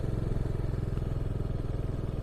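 Motorcycle engine running steadily with a low, even throb and rattly clatter, close and continuous, as the rider sets off on the outskirts of Leh toward Nubra Valley in Ladakh.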